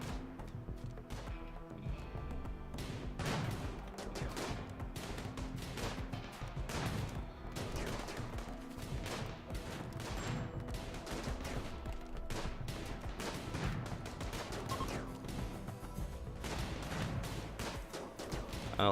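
Rapid, continuous volleys of uranium slug turret fire in the video game RimWorld, dense overlapping gunshot-like cracks and booms running nonstop at moderate loudness.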